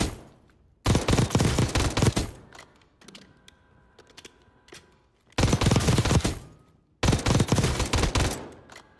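Rapid automatic gunfire from a rifle in Call of Duty, heavy recoil, comes in three loud, dense sustained bursts separated by quieter stretches of clicking and mechanical game sounds.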